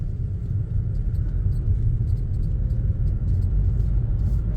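A learner driver's car pulls away from green traffic lights and shifts into second gear, its engine giving a steady close low rumble with a slight rise, no talking heard.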